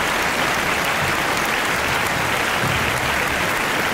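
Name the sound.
round of applause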